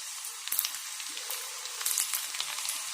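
Ingredients for grape pickle frying in hot oil, a steady close sizzle with scattered crackles and pops throughout.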